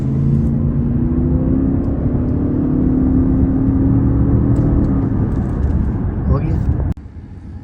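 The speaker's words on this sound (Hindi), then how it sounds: "अब मैं आपको 0 to 100 स्पीड टेस्ट भी करके दिखाता हूँ" A 2010 Lexus LS 600hL hybrid accelerating hard from standstill in a 0-100 run, a loud, steady rising engine and road roar heard from inside the cabin, cutting off abruptly near the end.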